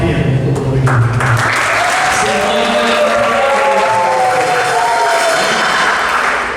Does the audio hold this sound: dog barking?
no